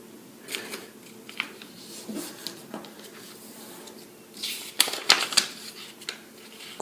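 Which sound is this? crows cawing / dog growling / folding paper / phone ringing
folding paper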